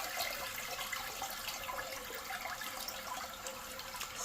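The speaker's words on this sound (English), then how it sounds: "Flush it down." A household toilet flushing nearby, a steady rushing wash of water that holds at an even level for the full stretch without pause, alone with no talk.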